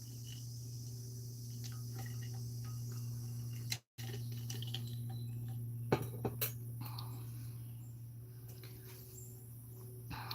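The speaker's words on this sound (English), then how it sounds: "I'm being surrounded by bugs right now" Crickets and other insects buzz in a steady, continuous drone all around, faint and close, with scattered small ticks and a brief dropout partway through; nobody speaks.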